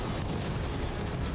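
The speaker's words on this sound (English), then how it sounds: "Get down! It's gonna be a big bang." A big explosion in a Doctor Who episode, a loud, dense, sustained rumbling blast heard up close with no voices over it.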